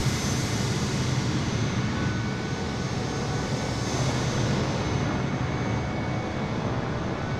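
An aircraft takes off in Microsoft Flight Simulator 2020 near Edwards AFB, a steady broadband engine roar that holds loud and even throughout with no voices.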